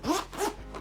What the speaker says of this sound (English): The zipper is nice and smooth on the one I have here.